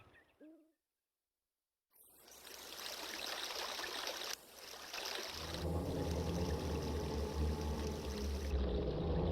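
Water in the Zora dungeon of a Zelda video game bursts in after a short silence as a dense, steady rushing flow that swells and stays loud to the end.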